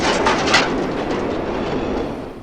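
A passing train in a Ghostbusters film scene, a loud, close, continuous rumble and rattle of rail cars that fades slightly toward the end, with no talking.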